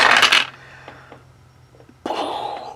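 Four dice rolled for a WWII Commander board game, a sharp clattering burst as they tumble and settle, then a short quiet gap before a second rattle of dice, close by with no talking.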